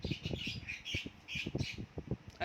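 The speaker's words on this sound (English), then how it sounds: "Oh, bird, please," A bird squawks repeatedly in quick harsh calls, fairly close and faint overall, with irregular rhythm and no speech.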